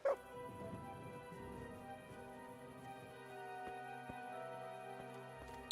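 A dog in Kingdom Come: Deliverance gives a few yips and barks over a steady game ambience with a sustained tonal drone underneath.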